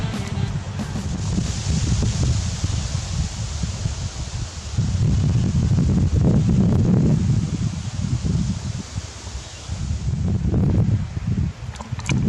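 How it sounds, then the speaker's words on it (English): Breezy wind gusting outdoors at a Yukon campsite, buffeting the microphone in a steady, loud, broadband roar with rustling swells and brief dips, and no voices. "It's a little breezy out here today."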